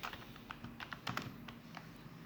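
Quick keystrokes on a computer keyboard, a run of light irregular taps with a few firmer clicks, close and fairly quiet, with no voice.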